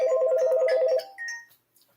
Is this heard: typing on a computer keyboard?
no